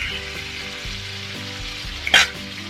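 Salmon fries in a pan over low-medium flame, Kerala style with pepper and lemon juice, a steady close sizzle with a brief louder spatter burst near the end, under a faint looping tonal background.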